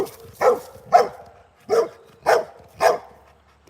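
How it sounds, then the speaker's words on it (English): A Rottweiler barks five times at close range with deep, evenly spaced woofs. There are short gaps between the barks and the dog sounds playful. "Look, that Rottweiler is happy."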